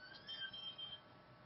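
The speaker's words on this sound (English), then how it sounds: "you're going to hear the alarm go off" A house alarm goes off somewhere in a home, its thin, high electronic tones faint and distant above a low background hiss, with no one talking.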